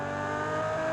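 A car engine in the racing game Automation/BeamNG revs hard and steadily for a moment, a loud sustained tonal whine held close and alone.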